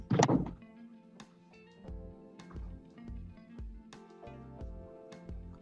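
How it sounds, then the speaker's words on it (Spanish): A door in a home is pushed shut with a soft thunk at the start, followed by quieter clicks and knocks through a dim indoor room. "Un segundo que cierro la puerta porque está haciendo mucho ruido"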